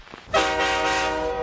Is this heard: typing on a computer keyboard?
no